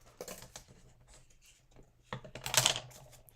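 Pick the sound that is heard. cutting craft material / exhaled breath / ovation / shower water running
cutting craft material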